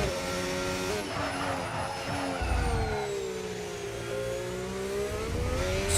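A McLaren Formula 1 car heard onboard during a push lap at Bahrain pre-season testing, its engine pitch sweeping up through the gears and dipping under braking, loud, close and continuous with no talk.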